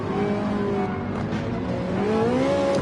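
Race car in a racing video game downshifting and braking hard, engine note dropping and rising in pitch across a few seconds, loud and close with no talk over it.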